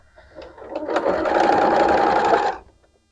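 A sewing machine stitches quilt pieces for a sew-along quilt in one close, even burst of about one and a half seconds that starts up quickly and stops sharply, with no talk.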